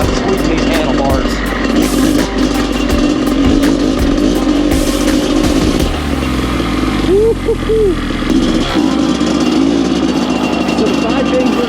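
A 2001 Honda CR500 or 2024 Honda CRF450R motocross bike being ridden roars loudly and steadily, its engine pitch rising and falling as the throttle works, with a voice talking over it.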